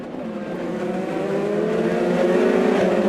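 IndyCar race cars at the 2017 St. Petersburg Grand Prix roar steadily as the race restarts, a loud continuous engine drone that builds in intensity over a few seconds, with no talking.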